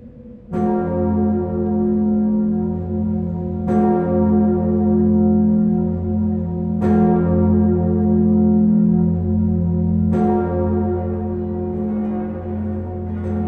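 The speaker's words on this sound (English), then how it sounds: "She chimes in F sharp, and experts view her as one of the best in Europe." The great bell of Notre Dame cathedral in Paris, tuned to F sharp, tolls four evenly spaced strokes, each strike blooming into a deep, sustained, humming resonance that carries between blows.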